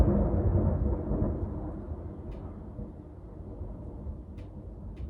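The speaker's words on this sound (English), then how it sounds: "oh my god, there's lightning." Thunder from a lightning storm, a deep rolling rumble that is loudest at the start and slowly fades, with a few faint clicks near the end.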